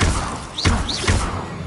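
In Hogwarts Legacy, casting the Glacius spell brings two bursts of heavy icy thuds with rising whooshing swells, loud and up close within the game's combat noise.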